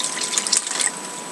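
A short, close trickle of water is poured into an MRE flameless ration heater pouch, a soft steady hiss with a few brief splashy spikes.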